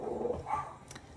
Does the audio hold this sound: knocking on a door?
no